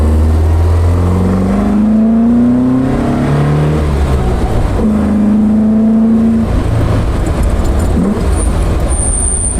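An Alfa Romeo muscle car's exhaust revving, loud and close, the engine note rising and falling through several pulls as it climbs through the gears, a steady rumble beneath.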